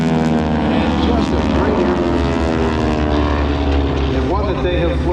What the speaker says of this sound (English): the North American AT-6 Texan, advanced trainer for those who went on to fighters in the Second World War